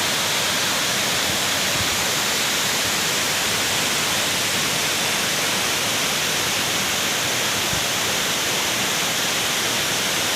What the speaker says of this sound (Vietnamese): Thác này tên là CD nha mọi người.